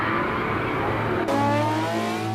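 A Ferrari F50 engine driving at the limit, a loud sustained mechanical drone with rising harmonic tones that jump sharply in pitch midway as the car accelerates hard, close and continuous.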